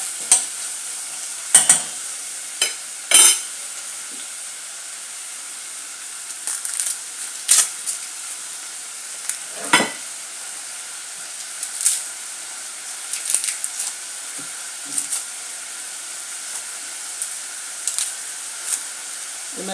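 Chopped onion and garlic frying in a pan for a masala fish curry, a steady soft sizzle beneath intermittent scraping stirs of a spoon against the pan, close by, with no talking.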